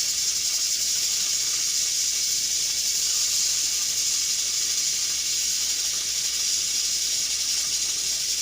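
A pressure cooker cooking pinto beans vents steam in a continuous, steady high hiss that stays loud and even throughout, with no talking.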